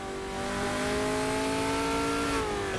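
A race car engine on a hot lap at Clermont-Ferrand in a video game, revving hard and steady with high, bright harmonic whine that dips briefly near the end as the throttle is feathered, loud and alone.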